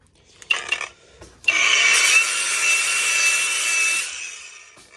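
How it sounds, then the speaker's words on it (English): Grinder pressed against sheet aluminum scrap, a harsh, loud, close abrasive rasp lasting a few seconds, preceded by short scraping touches and then fading out. "if you take a grinder to this and it does not spark, which I can demonstrate, grab my grinder here"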